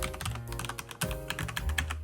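Rapid clacking keystrokes on a Keychron K8 Pro or K2 Pro mechanical keyboard, close and fairly loud, with a slightly high, hollow tone over a low background hum and no talking.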